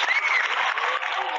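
Brief burst of crowd applause at an anniversary tribute concert, dense and bright with a faint tonal whine over it.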